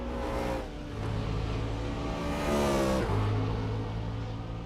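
Race cars at the Nurburgring 24h race roar steadily, with engine notes rising and shifting as cars slipstream and overtake along the circuit, loud and continuous with no talk.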